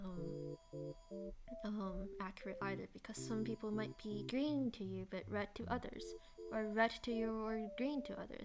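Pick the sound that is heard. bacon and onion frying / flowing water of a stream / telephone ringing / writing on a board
telephone ringing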